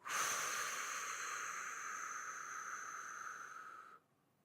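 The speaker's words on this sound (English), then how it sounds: "slowly breathe out." One long, slow exhale during a guided relaxation breathing exercise, a steady airy hiss held close to the microphone for about four seconds before it stops.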